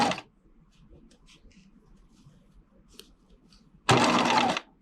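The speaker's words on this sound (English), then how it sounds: "Take this to the machine. And I'm going to stitch from one circle to the other." A sewing machine stitches the seam of a pencil skirt in a short, loud whirring run near the end, after a brief burst at the start and quiet handling noises in between.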